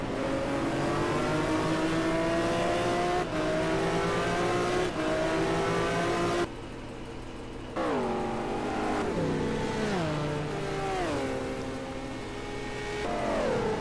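A Ferrari race car in a racing video game laps Suzuka, its engine note climbing through the gears with sharp shift drops, a brief lift-off lull, then repeated revving downshifts into corners, loud and up close.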